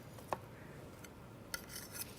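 A big wedge of food lifted out in one go and served onto a plate, heard as a few soft scrapes and light utensil clinks over a quiet room background.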